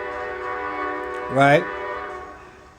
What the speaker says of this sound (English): y'all gonna have to excuse the damn train